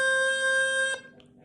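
A high A note is played on a woodwind chanter as one steady, bright, reedy tone held for about a second before it cuts off abruptly, close and alone.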